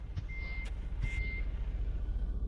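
Truck reversing alarm in a truck simulator game: two steady electronic beeps, the second longer, sounding clearly over a low, continuous engine rumble.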